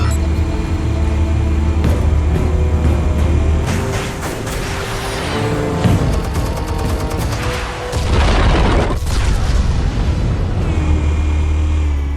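A loud video-game soundscape from Batman: The Telltale Series, with heavy booming blasts and rumbling explosions layered over dense cinematic noise and crackling debris, sustained and intense throughout with no speech.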